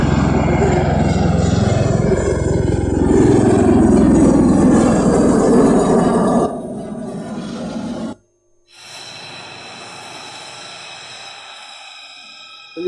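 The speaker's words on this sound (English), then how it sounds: "V-22 Osprey. Look at how it operates in vertical" A V-22 Osprey tilt-rotor aircraft roars loudly and steadily for several seconds with a broad rumbling drone, then drops away abruptly to a quieter, thinner hum after a brief near-silent gap.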